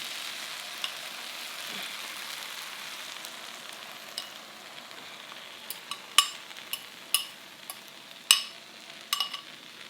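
Egg frying in a pan with bittermelon and tomato, a soft steady sizzle with scattered sharp pops and crackles that grow more frequent toward the end, no talking.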